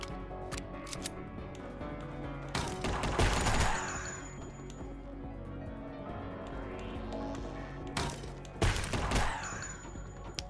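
Gunfire in the video game Unmetal, two sharp bursts of shots with broad crackling impacts, fairly loud against a steady game soundtrack with a faint high tone.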